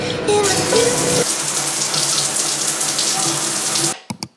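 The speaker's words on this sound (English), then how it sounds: "I just need to shower immediately" Water runs and splashes steadily in a home shower during a morning routine, a broad continuous hiss with some tonal sounds at the start, then it stops, followed by a few brief knocks.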